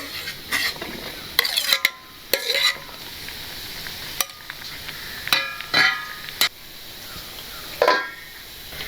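Shallots and five or six green chilies tumbling into a pan of half-cooked yam, giving a few stirring scrapes and soft sizzling bursts spread across the moment, close and moderately loud with no talking.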